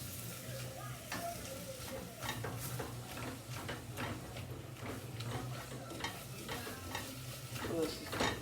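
Beef browns in a pot for beef barley soup with a dense, steady sizzle and frequent spoon scrapes and clinks against the pot, moderately close.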